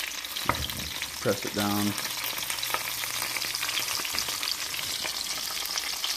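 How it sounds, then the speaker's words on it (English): Duck breast frying skin side down in a pan gives a steady close sizzle with stirring noises, and a brief voice speaks over it near the start. "Just going to press it down. Let that skin cook for about 2 minutes."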